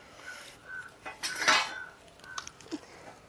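Dishes, pots and utensils being scrubbed and clattered during washing, a few metallic clinks and scraping knocks with a louder clatter in the middle, close and brief.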